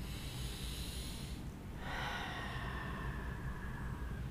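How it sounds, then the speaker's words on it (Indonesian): A deep breath drawn in, audible as a soft airy inhale after a brief pause, set over a steady low background hum. "Tarik napas, Bapak."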